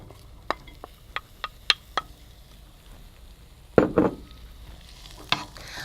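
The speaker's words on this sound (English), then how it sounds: "I'm going to let these cook for about 5 minutes, stirring occasionally." Chopped chard stems cooking in olive oil in a pan over medium-high heat, heard as a faint sizzle under a series of sharp spatula taps and clinks, then a louder scraping stir.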